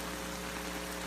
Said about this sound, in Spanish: no para de llover